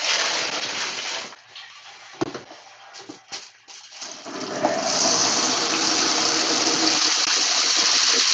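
Dirty water splashes out onto the ground, starting with a steady gush, breaking into scattered splashes and drips, then settling into a loud continuous pour.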